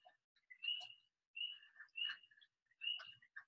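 Birds call among trees in a lush garden setting, with a quiet sequence of short, bright chirps and trills in clustered bursts separated by silence, fairly close and clear, with no talking.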